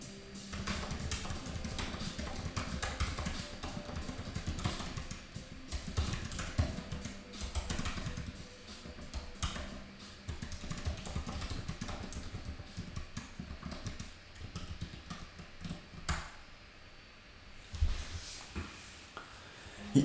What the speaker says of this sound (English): let me just type this in here before I start talking